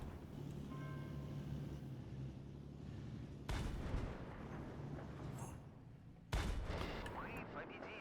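Gunfire in the tank game Panzerkampf: two sharp, loud blasts about three seconds apart punch through a steady rumbling engine-like background, with a voice talking at points.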